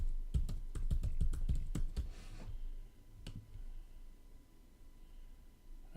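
Typing on a computer keyboard, a quick run of sharp, close keystroke clicks over about two seconds, then a single late tap before near quiet.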